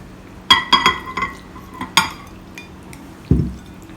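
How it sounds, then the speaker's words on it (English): Sliced marinated fish is added to a light batter and stirred in a bowl. Several sharp clinks and taps of a utensil against the bowl come in quick succession, then a soft wet thud near the end. "we'll add in the sliced fish with the marinade into this batter"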